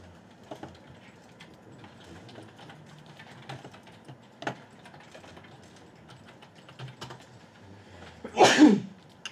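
A single sharp sneeze bursts out near the end, close and loud, after several quiet clicks of keyboard typing in an indoor classroom setting.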